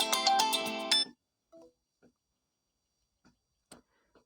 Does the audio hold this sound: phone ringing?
yes